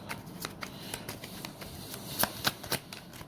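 Tarot cards are shuffled and drawn in a quiet room, making a run of light papery flicks and riffles with several sharper snaps near the end, close and with no voice.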